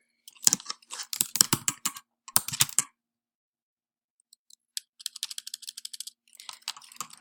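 Bursts of quick, close typing on a computer keyboard, a dense run of keystrokes, a brief pause with a couple of isolated taps, then lighter, faster clicking resuming; no voices.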